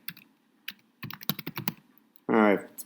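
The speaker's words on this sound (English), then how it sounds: "pardon the typing here" Keys on a computer keyboard are typed in a quick, irregular run of crisp clicks, nearby, with a brief burst of voice right after.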